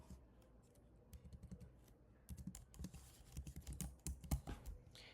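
Rapid, uneven clicking of computer keyboard keys typed close by, growing busier and louder toward the end, with no voices.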